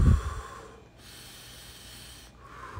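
Slow, steady breathing during an ice bath, a sharp nasal snort-like inhale up front followed by a long, quiet airy exhale, close and alone with no talk.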